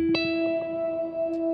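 An electric guitar rings out a sustained E octave, fretted on the D string at the 14th fret, with effects-laden tone, a single plucked note holding steady with slight echo.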